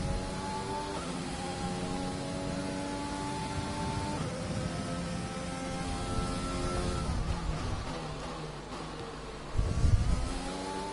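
Race cars in a racing management video game circle the track, a steady engine drone with shifting pitch sweeps as the cars pass, continuous and fairly loud with a brief louder burst near the end.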